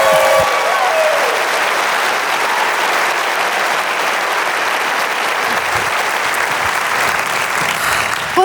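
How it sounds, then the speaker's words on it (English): Audience clapping and cheering for a speaker being welcomed onstage, a dense, steady roar of applause that holds loud and continuous from start to finish. "put your hands together, make a little bit of noise"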